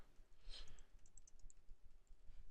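Keys tapped on a computer keyboard in a quick, uneven run of light clicks, close and fairly quiet with a soft background hiss.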